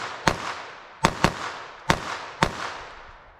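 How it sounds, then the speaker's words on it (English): Five sharp gunshots from a Remington .38 Special revolver ring out at uneven intervals, each a loud, close crack with a short decaying tail, and nothing else fills the gaps between them. "At the moment I fire"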